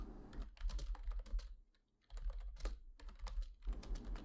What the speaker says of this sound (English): The keys clicked again, filling the room with something almost, but not entirely unlike the silence that was present before it.